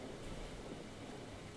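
Stormy weather outdoors in the survival video game DayZ: a steady, low wash of rain and wind rumble, with no distinct thunder crack, that holds at an even level throughout.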